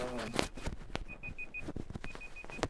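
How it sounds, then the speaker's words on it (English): A timer beeping in short, evenly spaced high pulses, a group of four and then a group of three, while someone speaks nearby in an indoor room. "What is that? It's some kind of timer."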